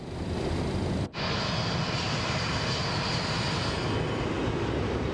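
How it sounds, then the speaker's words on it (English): A Boeing 727-200F cargo jet in Microsoft Flight Simulator 2024 climbs toward 31,000 feet, its engines a steady, dense broadband roar that briefly dips and cuts out near the start, then resumes unchanged. "we'll allow the aircraft to continue climbing"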